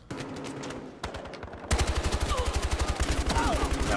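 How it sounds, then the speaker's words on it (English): Rapid automatic AKS-74U fire in a Battlefield Hardline team deathmatch, starting as sparser shots and then becoming dense, loud, evenly spaced bursts in the second half. "right now I'm using the AKS U74"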